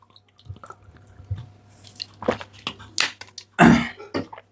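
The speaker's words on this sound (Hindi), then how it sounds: "थोड़ा सा पानी पी लेते हैं, नहीं तो गला जाम हो जाएगा" A person sips water to ease a dry throat, with soft wet mouth sounds, swallows and squishy gulps at close range, ending in a louder gulp and a breath.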